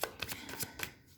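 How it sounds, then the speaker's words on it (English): Tarot cards pulled and flicked from a deck in a series of quick papery snaps and slides, about five sharp strokes close to the microphone, with no speech. "let's just pull out the rest of the cards before we get deeper into this"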